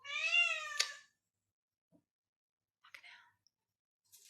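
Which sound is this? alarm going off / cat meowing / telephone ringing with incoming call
cat meowing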